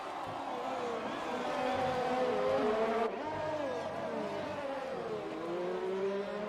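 Race cars in the F1 2020 video game on the Singapore circuit roar steadily, engine notes rising and falling as they accelerate, with a brief shift in pitch partway through.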